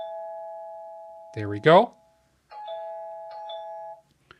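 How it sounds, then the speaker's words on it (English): A Tapo security camera chime rings when motion is detected, giving a clear two-tone electronic ding-dong that repeats in softer pulses, with a brief spoken phrase in between. "It's going to chime anytime because when I just see some motion here, it's going to detect."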